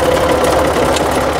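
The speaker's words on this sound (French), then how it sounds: "Et hop, regarde, tu vois la fourche elle se lève." A Ford 4110 tractor engine runs steadily and loudly up close with a dense, even mechanical churn while its hydraulic fork lifts, no voices over it.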